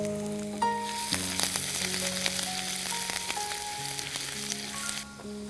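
Chopped garlic and ginger sizzle in hot frying oil, a loud steady hiss with stirring scrapes and a background hum, no talking.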